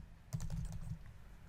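A short, quiet burst of rapid keystrokes on a computer keyboard, a quick run of clicks that trails off into low background hiss.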